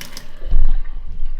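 Water from a filtered water dispenser gushes out in a short strong pour, set to dispense 24 ounces, close up and loud with no voices.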